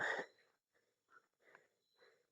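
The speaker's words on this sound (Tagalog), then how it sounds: "Hinihingal ako dito man" Heavy, ragged panting from one person, a sharp loud breath at first followed by several softer, uneven gasps close to the microphone.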